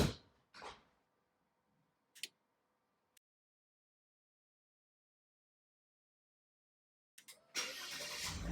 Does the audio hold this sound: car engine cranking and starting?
yes